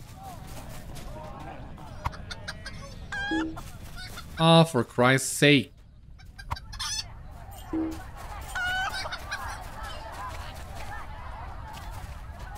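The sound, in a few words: chicken clucking in the video game LOTRO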